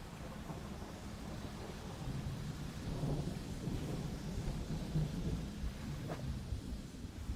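Thunder rumbling from a lightning bolt in the video game Dredge, a low, steady roll with rain-like hiss running through the whole stretch at moderate, distant-sounding volume.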